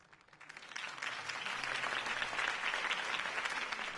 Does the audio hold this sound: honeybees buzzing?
no